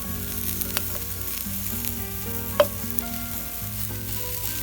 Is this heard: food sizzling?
yes